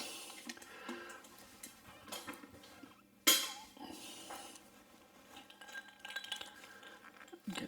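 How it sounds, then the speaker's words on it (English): Big ice cubes dropping into a glass of Redbreast 12 Year Old Irish whiskey give one sharp, close clink midway, with a few softer glassy taps and knocks scattered around it. "There we go, a couple of big blobs of ice."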